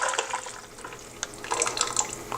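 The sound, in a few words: carrot turmeric soup poured back into the pot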